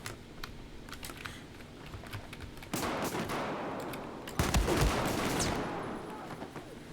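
Rapid bursts of DMR fire from Battlefield 4 gameplay crack over a busy background of game noise, with two louder volleys near the middle and end.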